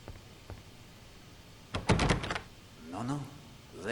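A locked door in the 2007 PC game Agatha Christie: Evil Under the Sun is tried and gives a brief, loud rattling thud, then a voice speaks.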